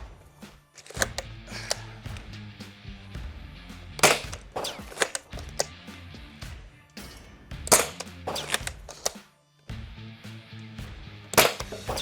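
A Dart Zone Pro MK 1.2 blaster firing Adventure Force Pro darts, a series of sharp, close snapping shots spaced a second or two apart with quieter mechanical clicks between them and no talk.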